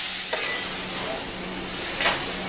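Bolognese sauce spooned into a saute pan, a soft hiss of heat with two short scraping scoops, close and fairly loud, no voices.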